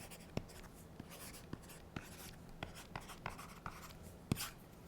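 A pen writes on an e-ink tablet with faint, close scratching strokes, punctuated by small ticks as the tip lifts and touches down.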